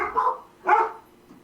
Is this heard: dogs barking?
yes